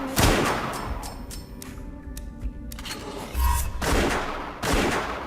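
Gunfire in a shooting video game, with repeated broadband bursts and cracks that come in loud clusters, first at the start and again near the end, over a busy game soundscape.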